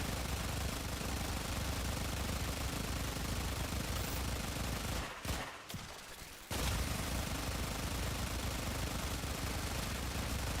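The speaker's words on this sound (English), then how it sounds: "Just keep shooting." Dense, continuous automatic gunfire from the video game Warframe rattles loud and steady, breaking off for about a second in the middle before resuming at full intensity.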